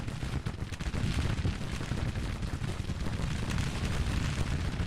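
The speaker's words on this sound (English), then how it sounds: "I saw them shoot a volley." A volley from Henry rifles rings out on a Civil War battlefield in a strategy game. It comes as a dense, continuous crackle of gunfire with a low rumbling roar underneath, loud and unbroken throughout, and no voices are heard.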